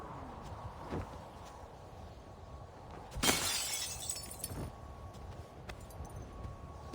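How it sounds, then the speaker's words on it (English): An elbow smashes through a pane of glass in Assassin's Creed 3: one sharp, bright shatter with a brief tinkling tail, set against quiet background ambience and a few faint knocks. "the classic elbow breaking the glass trick"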